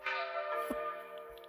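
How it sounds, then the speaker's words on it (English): A diner door bell rings in a video game, a single bright chime whose resonant tone rings on and slowly fades, with a faint knock partway through and no talking. "the door to the diner opens, sounding the bell"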